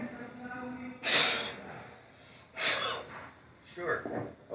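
Deep breaths in a breathing-exercise routine, three loud airy bursts spaced a second or so apart, with quieter breathing and low murmuring between them.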